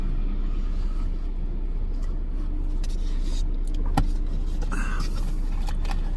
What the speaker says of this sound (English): This is the traffic that got around the big guy coming up the hill